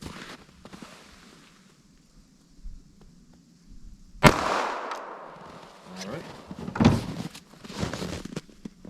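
A single sharp, loud .380 ACP shot from a Fort Scott TUI pistol fired into ballistic gel, close by, followed by a second crack and some handling clatter amid quiet surroundings.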